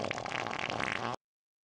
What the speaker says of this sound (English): Farting on stream like that